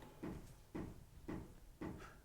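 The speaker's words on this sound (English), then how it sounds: "Apologies to anybody who hears knocking in the background" Four dull, evenly spaced knocks on an office door, faint and slightly muffled as if from another room, each thud followed by a short hollow ring.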